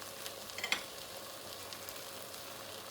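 Tomato paste, garlic and ginger sizzle faintly in a pan as a spoon stirs them, with a few soft scraping clicks near the start over a steady low frying hiss.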